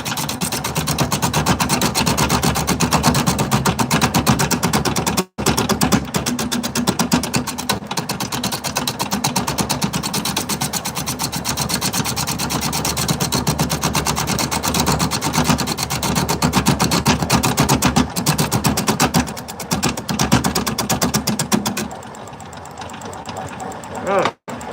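A lathe turning a wooden lidded hollow form at about 500 RPM gives a steady, dense whirring drone with a rough rubbing texture that holds nearly unbroken and close, then drops in level near the end.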